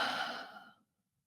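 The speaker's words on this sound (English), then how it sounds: "Take a couple of deep breaths in and out again" One slow, deep exhale, breathy and soft, fading away into silence.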